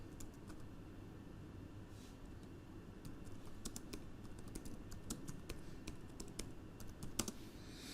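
Steady typing on a computer keyboard while an accounting journal entry is written, with irregular clicks and a few sharper key taps spread over a low background hum, with no voices.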